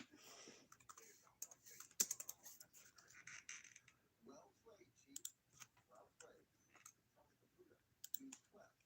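Fingers tap on a computer keyboard in uneven bursts of soft clicks, with quiet murmured speech in between.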